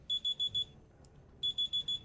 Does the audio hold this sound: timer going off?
yes